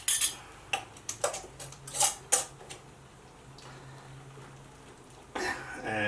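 Metal lids being put onto tiny 2-ounce glass marmalade jars, giving several sharp clinks and taps in quick bursts, with quieter handling noise and a low hum between them.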